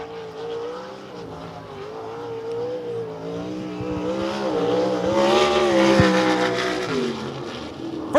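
A winged or non-wing sprint car from the ASCS Elite Non-Wing Sprint Car Series laps Devil's Bowl Speedway at the Johnny Suggs Classic, its engine rising and falling through gear-like revs, swelling louder mid-lap before easing off.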